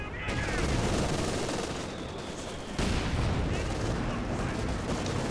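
B4 howitzer artillery fire in the World War II strategy game Company of Heroes 2 booms loudly among dense, continuous battlefield gunfire and explosions, with a sharp fresh blast partway through.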